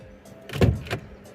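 Electric power window on a truck cab, a short motor whir that swells and fades over about a second, fairly close and moderately loud, with no voices.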